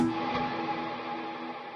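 A sustained electric guitar note in the key of A rings out, smeared by eighth-note delay repeats and a long, cavernous reverb tail that slowly fades.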